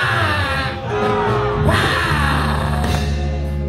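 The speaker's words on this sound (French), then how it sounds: "lève-toi et crie victoire" A church congregation shouts victory together, a loud crowd roar of yells and whoops that swells midway and stays sustained, with voices rising over one another.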